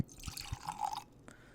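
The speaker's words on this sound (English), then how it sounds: "Pour some in there." Four Roses Single Barrel bourbon, freshly uncorked from a real cork stopper, poured into a snifter glass, a short liquid trickle with drips building over about a second, close and quiet with no talking.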